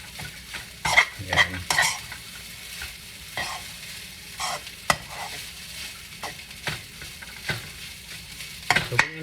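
Chili garlic fried rice is stir-fried in a pan over rising heat, giving a soft background sizzle broken by repeated scraping and clattering strokes of a utensil against the pan; a brief spoken word is heard.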